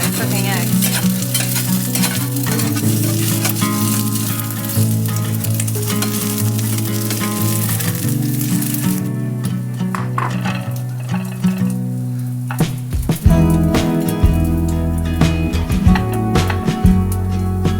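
Eggs frying in a pan, a loud close sizzle running throughout with occasional clinks and scrapes, no voices.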